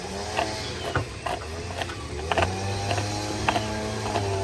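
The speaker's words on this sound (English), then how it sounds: "Find your halfway point and then you just ratchet it up." A string trimmer head ratchets as line is wound onto the spool, giving a run of small, close mechanical clicks at an uneven pace under faint background noise.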